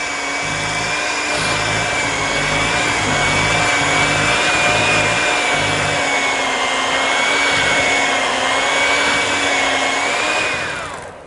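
A single-beater electric mixer runs continuously at a steady whine, loud and close, holding one pitch throughout before spinning down at the end, with no talking.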